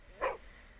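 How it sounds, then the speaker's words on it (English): A single short dog bark in a neighborhood, one brief mid-distance yelp standing alone against quiet background. "Unless you have a dog in your neighborhood that barks all night"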